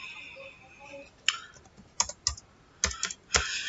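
Keys clatter on a computer keyboard during invoice entry in Tally Prime. A few soft taps come first, then a run of sharp, close clicks and heavier key presses, like Enter being struck.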